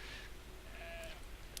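A sheep in Brothers: A Tale of Two Sons gives a faint, brief bleat against a steady low game ambience, with a sharper high sound at the very end.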